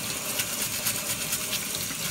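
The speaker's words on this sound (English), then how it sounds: "run them under warm water using a brush to scrub off all the resin mold" Warm water running steadily from a tap over resin miniature parts being scrubbed with a toothbrush, a continuous close splashing gush with faint brushing.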